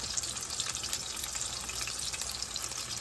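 Chicken pieces fry in a pan just after being flipped, giving a steady, bright sizzle with tiny crackling pops, close and continuous throughout.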